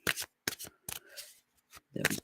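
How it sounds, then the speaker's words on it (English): Tarot cards shuffled in several quick riffling bursts, close and fairly loud, with short pauses between them and a heavier final shuffle. "Sometimes it seems like I have to shuffle for a while before something happens."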